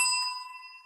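A single bright bell strike rings out clearly and then sustains with a pure, slowly decaying tone, alone without any voices.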